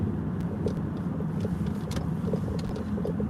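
Steady low rumble of a car on a quiet morning drive, its road and engine noise continuous and close, with a few faint ticks and small bumps over the constant hum.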